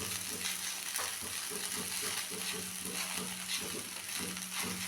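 Sabudana khichdi being stirred in a pan, a continuous soft sizzle with rhythmic scraping strokes of the spoon repeating evenly throughout.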